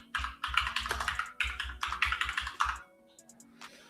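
Rapid clatter of keystrokes on a computer keyboard, close and fairly loud, in quick bursts with brief pauses, then a few scattered clicks at the end.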